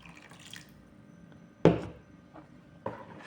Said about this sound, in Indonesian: Jadi kita mau masukkan lagi air secukupnya buat kue cucur.